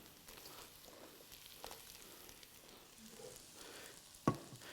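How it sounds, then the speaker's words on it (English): Onions sauté in a pan with a soft, steady sizzle and faint crackle that runs throughout, fairly quiet, with one sharp utensil clack near the end. "if you get your onions sauteed down and sweat them out"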